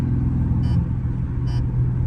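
A Dodge Scat Pack with a catless exhaust drones steadily as it cruises a street at night, its low engine rumble loud and continuous, with two brief higher rasps along the way.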